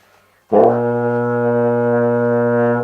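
A brass mouthpiece buzzes a steady concert B flat, starting abruptly and holding one low pitch, loud and close, with a rich, reedy edge.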